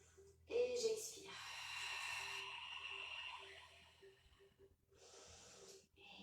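A long audible exhale during a Pilates exercise, close and breathy, stretching over several seconds, with a faint steady hum beneath and a softer breath at the end.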